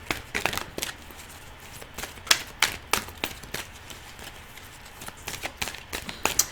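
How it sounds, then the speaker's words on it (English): A tarot card deck being shuffled and cut, sharp papery riffles and snaps in irregular bursts, close and fairly crisp, with short quiet gaps between clusters. "Let's go ahead and cut the deck here."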